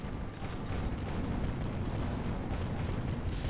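A dense, continuous rumbling barrage from a Hwacha in a video game skirmish, many overlapping bursts merging into a steady roar.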